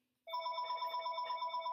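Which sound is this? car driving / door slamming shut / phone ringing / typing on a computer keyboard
phone ringing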